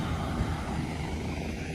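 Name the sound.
helicopters flying overhead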